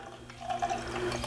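Organic pear cider poured into an IPA glass, a short liquid splash and trickle that rises briefly at close range with no talk over it.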